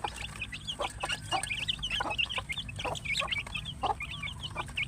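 Hungry chickens cluck busily as they are fed, with many short overlapping clucks in quick, uneven bursts, close by and moderately loud over a low background hum.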